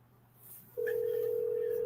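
A steady electronic telephone tone comes in abruptly partway through and holds evenly to the end over a faint, quiet background, on a talk show taking call-ins.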